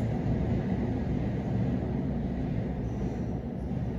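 A steady, low rumbling roar of trains passing near a metro and train station, continuous and fairly loud with no voices.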